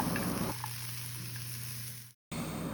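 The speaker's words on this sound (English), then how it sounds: "put the large piece of bacon in the big pan, because I need to render like its fat" A large piece of bacon laid in a big pan to render its fat, giving a steady close sizzle and crackle that continues evenly, then cuts out briefly before resuming.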